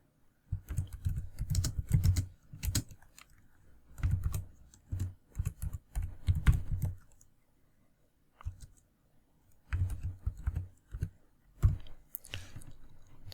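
Bursts of quick typing on a computer keyboard, with clustered clicky keystrokes separated by short pauses, close and fairly loud, with no talking.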